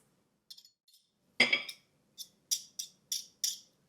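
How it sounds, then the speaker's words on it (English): Garlic being squeezed through a kitchen garlic press for an olive oil bread dip: a few faint clicks, then a louder metallic crunch followed by a run of sharp, close clinks as the handles are worked, heard alone with no talk. "So we'll put that in to the press,"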